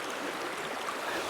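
Shallow, low river running over many rocks, a steady close wash of rushing, burbling water that keeps going without a break and with no voices.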